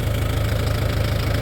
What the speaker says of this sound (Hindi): मैं रोटावेटर लेके आया हूँ